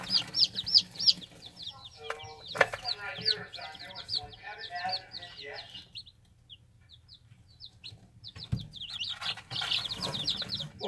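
A newly hatched chick, still flecked with eggshell, gives rapid high peeping tweets in bursts near the microphone, with a short quiet gap midway and people talking softly nearby.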